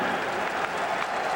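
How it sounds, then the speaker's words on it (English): A crowd at BC Place gives a standing ovation during a CFL football game, a steady wash of applause and cheering heard at moderate distance in a short burst without pause. "a nice standing ovation from a lot of the crowd here in BC Place"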